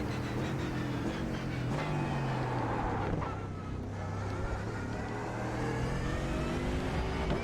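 McLaren car engine revving loudly and continuously, with rising and falling harmonic pitch as it accelerates and shifts, close and sustained throughout without speech.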